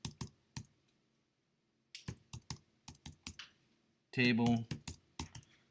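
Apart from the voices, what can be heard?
typing on a computer keyboard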